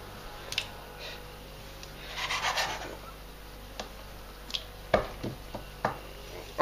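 Knife cutting ingredients on a board for homemade pasta and ravioli: a soft rasping stretch, then scattered single chopping taps, fairly quiet and close, with no talk.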